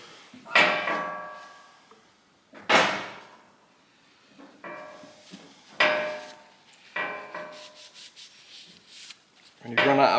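A hand scraper works bronze steam engine bearings in a shed, giving a series of separate rasping metal strokes, each a sharp scrape that tails off, spaced a second or two apart, close and fairly loud.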